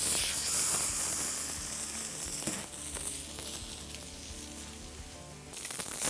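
A steak sears on a hot shovel set over direct BBQ coals, a dense, continuous sizzle and crackle, close and steady, with scattered pops and no talking.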